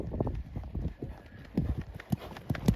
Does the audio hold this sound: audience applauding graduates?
no